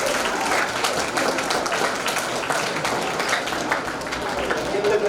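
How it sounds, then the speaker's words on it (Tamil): An audience at a school award ceremony applauding steadily and loudly for several seconds, a dense wash of many hands clapping with a voice speaking over it. "பாராட்டுங்கள்."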